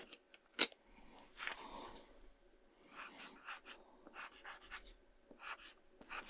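Soft, close pencil strokes colouring on paper, quiet repeated scratchy bursts in an uneven rhythm with brief pauses between runs.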